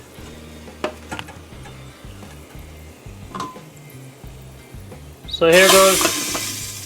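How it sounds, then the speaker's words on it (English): Fried garlic is tipped into a pot of Guyanese dal and bursts into a loud, bright sizzle that swells and then slowly fades, after quieter stirring and pot clinks under a voice. "So our garlic is fried there now, so it's time to add it to the dal, to chunky the dal."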